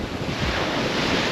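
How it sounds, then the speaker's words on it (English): Ocean surf rolling and breaking on the shore, a steady broadband wash with wind buffeting the microphone throughout, loud and continuous with no talk. "I can't even count how many waves are out there"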